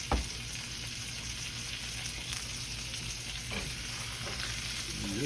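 Bread slices for an onion patty melt fry in a hot pan, a steady close sizzle holding throughout with a few faint scrapes and taps from a utensil, no voices.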